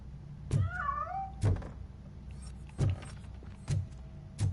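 A cat meows once in a rising, wavering cry near the start, amid several dull thumps and knocks spaced through the scene at moderate distance.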